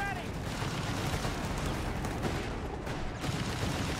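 A Wirbelwind quad flak vehicle fires in a Company of Heroes 3 battle, a dense, unbroken roar of rapid automatic bursts filling the whole stretch, with a commentator's voice running beneath it.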